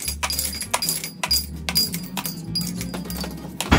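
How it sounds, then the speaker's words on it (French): Ice cubes added into a cocktail shaker for a Pisco Sour, a series of hard clinks and rattles as cubes drop and knock together, close and fairly loud over a low background hum. "on vient rajouter les glaçons dans le shaker."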